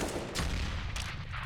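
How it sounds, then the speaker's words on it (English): A burst of rapid AK rifle fire in Counter-Strike sprayed through a wall, dense, continuous and loud across the whole short moment, with no speech over it. "You're wondering, yes, you can spray through that wall even with an AK."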